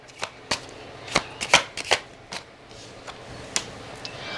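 Tarot cards are shuffled and handled up close, making a series of sharp flicks and riffling snaps spaced unevenly over a few seconds, with quieter card slides between them.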